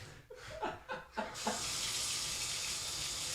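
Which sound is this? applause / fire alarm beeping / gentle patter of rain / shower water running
shower water running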